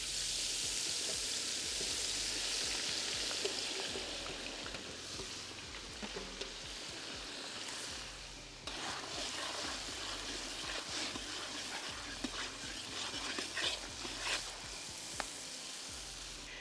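Whole garam masala spices sizzle steadily in hot oil for a mutton curry, then the frying flares into a louder, busier crackle as green chillies and ginger-garlic paste hit the pan.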